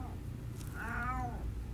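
A pet cat gives a single soft, rising-and-falling meow at close range, faint against a steady low background hum.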